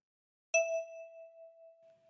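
One key of a ten-key kalimba, thumb-plucked on the left side, gives a bright metallic ping that sustains and decays gradually with a soft pulsing beat, with nothing else audible.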